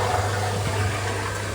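Water pours steadily into a small home aquarium during a water change, a continuous close splashing rush with a faint low hum beneath, no voices.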